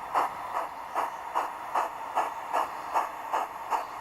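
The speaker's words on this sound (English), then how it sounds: "The morning mixed could now depart, with Southwold Sharp Stewart loco at its head" A Southwold Sharp Stewart model steam locomotive hauls a mixed train on a light railway, giving a steady, moderately loud chuff-like beat of about ten even pulses over a constant hiss, with no voices.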